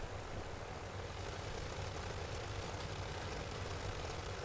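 A Curtiss Jenny's aircraft engine in Microsoft Flight Simulator 2024, a faint, steady low rumble that holds unchanged throughout.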